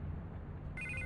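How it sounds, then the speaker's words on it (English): A telephone rings in Batman: The Telltale Series, one brief electronic ring tone kicking in near the end over a low ambient game hum. "I can't get the phone to stop ringing"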